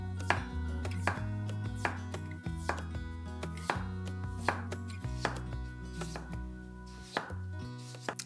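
A knife slices potatoes and shallots thinly on a board, steady repeated sharp chops in an even rhythm, close and clear with no talk.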